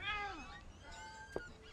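A cat meows in the video game What Remains of Edith Finch, a short rising-and-falling mew at the start, fairly soft over quiet game ambience, with a brief click later.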